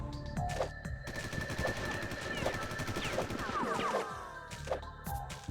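Enemy gunfire in Oddworld: Munch's Oddysee, with a run of sharp shots and bursts repeating over several seconds against a busy game background.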